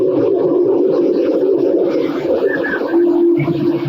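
Birds of the kind used for fishing in Japan give low, throaty cooing calls that repeat steadily over several seconds, moderately close.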